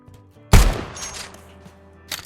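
A single loud rifle shot in Cowboy Life Simulator rings out close by with a booming decay, followed by a quieter second crack near the end.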